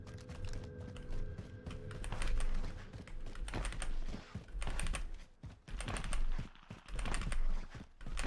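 Computer keyboard and mouse clatter during Warzone play: irregular bursts of key presses and clicks, close and crisp, with quick clustered taps separated by short pauses.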